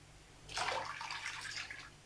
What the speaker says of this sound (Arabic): ماء.